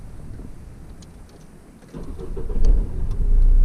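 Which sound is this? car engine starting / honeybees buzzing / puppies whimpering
car engine starting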